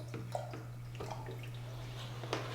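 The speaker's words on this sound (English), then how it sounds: "let me just add some more water in here" Water poured in small splashes and drips into a perlite-filled propagation container for Monstera subpinnata cuttings, close and soft over a steady low electrical hum.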